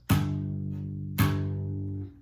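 Two slapped bass notes on the 3rd fret of the E string, each a sharp percussive attack that rings out with a sustained low tone, played alone and close.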